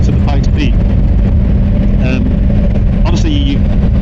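A 2024 Ducati Multistrada V4 RS motorcycle, rated over 195 bhp, roars along a road past a farmers market, its engine rumbling loudly under heavy wind noise while a rider talks.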